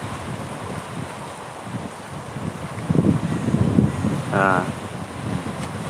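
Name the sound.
wind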